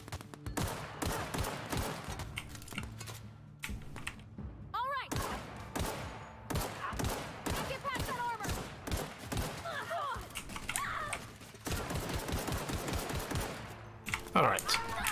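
Sustained automatic gunfire and weapon shots rattle through a sci-fi firefight in The Outer Worlds against marauders, dense and loud across the whole stretch with someone talking over it.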